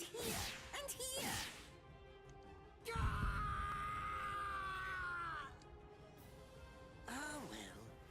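A man screams and groans in pain in a soul-reaping video game, drawn-out anguished cries breaking out in several bursts over a rumbling game soundscape.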